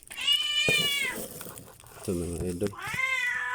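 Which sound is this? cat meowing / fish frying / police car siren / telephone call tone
cat meowing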